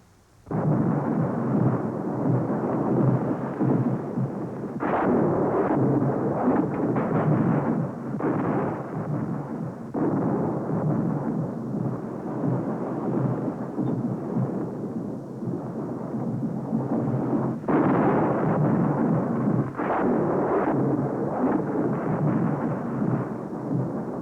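Thunder from a storm rumbling on without a break, loud and deep, with several heavier cracks and swells rising out of a steady roll and no voices over it.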